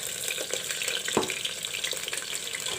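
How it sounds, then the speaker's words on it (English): Okra (bhendi) frying in hot oil in a home kitchen, a steady soft sizzle and crackle with a single sharper pop partway through, quiet and continuous with no talking. "The bhendis are almost fried up."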